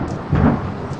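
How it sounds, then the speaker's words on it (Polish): Thunder rumbles through a stormy-weather scene in the Harry Potter and the Prisoner of Azkaban video game, a single loud, low roll swelling midway through a brief burst alone. "Następnego ranka mimo burzowej pogody Harry"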